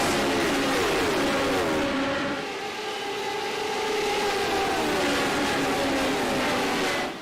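A pack of sim race cars at Road America roars off the green flag start, engines climbing in pitch together, loud and sustained with overlapping revving tones.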